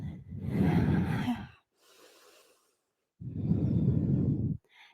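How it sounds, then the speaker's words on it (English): Steady Ujjayi breathing during a yoga session: two long, loud, hissing breaths close to the ear, separated by a quieter breath and a pause. "We'll come back to that nice, steady Ujjayi breath here"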